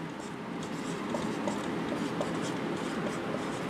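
Pen or pencil scratching steadily across paper while working a Class 10 math fraction problem, a continuous close rubbing texture with no speech.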